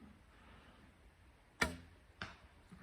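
An arrow from a traditional thumb-draw bow strikes the target with a sharp, crisp impact, followed moments later by a second, softer knock, in an otherwise quiet outdoor setting.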